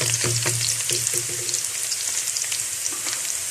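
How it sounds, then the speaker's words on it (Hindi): Onions frying in a pan give a close, steady sizzle with crackling spits, plus a few clinks and scrapes of stirring early on, and nobody speaks. "प्याज को हल्का ब्राउन होने तक हम फ्राई कर लेते हैं।"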